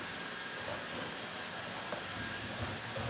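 Robot vacuum cleaner with a small sweeper arm and rollers working over a floor, giving a close, continuous whooshing hum with faint clicks and bumps scattered through, no voices.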